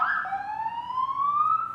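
An ambulance siren coming up the road wails as one continuous tone, its pitch sliding steadily upward as it draws nearer, loud and clear with no voices over it.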